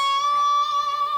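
A single sustained guitar note on the 14th fret of the B string, bent up a semitone and held with slight wavering, ringing clearly for just over a second with no talking.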